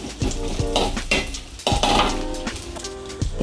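Sliced garlic and shallots go into a pan for stir-fried quail eggs with green beans, giving busy clanks of a utensil scraping and knocking the pan over a steady frying sizzle, close and loud.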